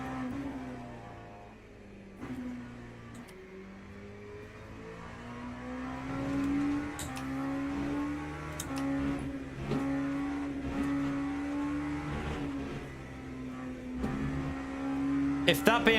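BMW race car from Le Mans Ultimate, its steady engine note rising and falling through gear changes for the whole stretch, with someone speaking over it now and then.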